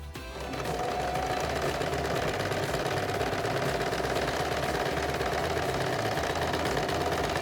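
A sewing machine stitches edging along a dupatta with a steady, fast mechanical whir and a rapid needle clatter, close and continuous after a brief start-up.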